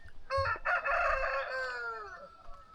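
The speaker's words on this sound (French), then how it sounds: "Putain, le coq." A rooster crows once in the open countryside near a mountain, a long drawn-out call that rises and then trails off, loud and close, with a faint rustle of wind underneath.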